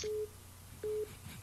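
A telephone line tone for an incoming call: two short steady beeps about a second apart, clear but not loud, over faint background noise.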